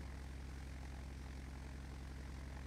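Steady propeller-aircraft engine drone at low idle in the FSX flight simulator, a Beechcraft Duke on a world tour, with an even, continuous low hum and rhythmic throb filling the whole stretch, no talk.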